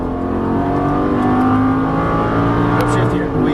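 Lamborghini engine pulling hard under throttle on a track, a loud steady drone of rising harmonics with tire noise, while people talk over it throughout.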